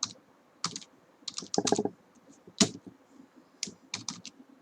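Someone types on a computer keyboard in irregular bursts of crisp key clicks separated by short pauses, close and fairly quiet, with no talking.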